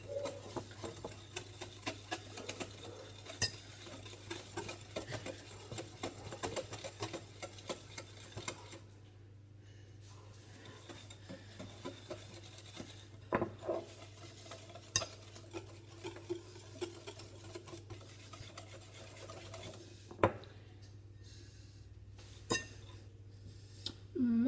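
Coconut langues de chat batter is stirred in a bowl with steady, repeated scraping and light tapping strokes, close and moderately loud over a constant low background hum, with no talking.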